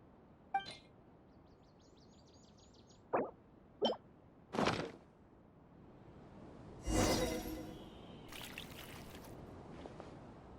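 In a video game, water is poured in a few distinct plops and splashes spaced apart, followed by a longer trickling pour, fairly quiet against a soft background.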